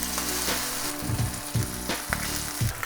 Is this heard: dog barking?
no